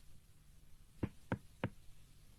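Three quick, hollow knocks on a patient's back by a doctor in a Shinchan cartoon, sounding like rapping on a door, evenly spaced and close over a quiet background.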